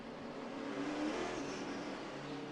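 Stock car engines roar in a steady, dense wash on pit road at the Richmond short track during the NASCAR Russ Friedman 400, fairly distant and continuous with no talk.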